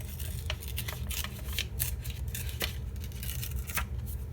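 Glued-down paper tears in a run of short, dry ripping bursts, close and steady over a low background rumble, with no talking.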